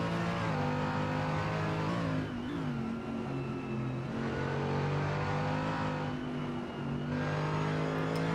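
A Mercedes-Benz race car in a sim racing game at Mugello revs hard with a steady, buzzing engine note that shifts pitch as it accelerates and backs off, loud and continuous throughout.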